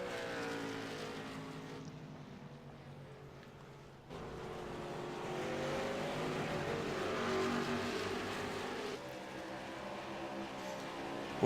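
A race car laps a racetrack, its engine droning steadily, then surging louder as it comes nearer and holds a strong, continuous roar before easing slightly.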